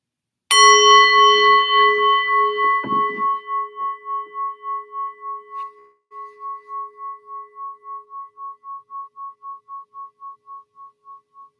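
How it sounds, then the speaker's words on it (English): A meditation gong is struck once, giving a bright, clear strike that rings on with a slowly pulsing, fading hum for many seconds, alone in silence. "Now I'm going to ring the gong."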